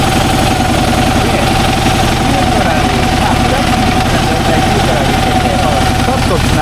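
A 2009 Harley-Davidson FLHTCU V-twin idles loud and steady with a constant throb while the transmission is engaged, and someone talks over the engine.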